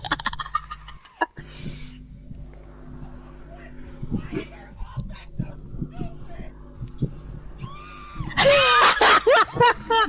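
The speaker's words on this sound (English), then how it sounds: "He is screaming his eyes out just to get them to shoot the ball." During a racing game session, a man yells loudly and excitedly for a few seconds near the end, preceded by quieter game sounds and background noise.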